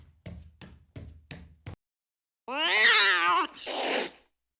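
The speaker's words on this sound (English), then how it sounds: "It was your damn cat again." A house cat gives a loud, drawn-out meow followed by a shorter second call, heard close and alone after a run of five sharp knocks or taps.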